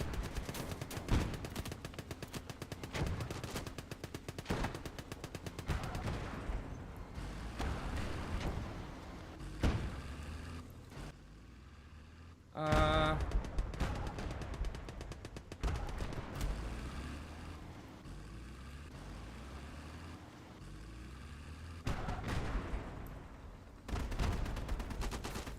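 Machine guns fire in the WWII strategy game Gates of Hell during a Japanese campaign battle. Long, dense rattling bursts repeat almost without pause, with heavier booming impacts mixed in and a brief lull partway through.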